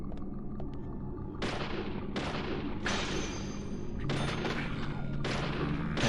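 Five sharp gunshots ring out at irregular intervals in the video game Deadly Premonition, each a loud crack with a decaying tail, over a constant low rumbling game background.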